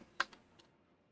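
A few quick, light computer keyboard key clicks, one sharp tap followed by a couple of fainter ones, close by in a quiet room.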